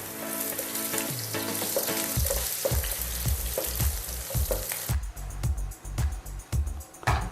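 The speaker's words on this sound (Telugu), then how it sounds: "ఇవి కొంచెం వేపుతాం ఇందులో కొంచెం సన్నగా తరిగిన వెల్లుల్లి తరిగి వేసుకుందాము" Finely chopped garlic fries in hot oil with a continuous crackling sizzle, punctuated by regular knocks and scrapes of a spoon stirring in the pan, and no one speaks.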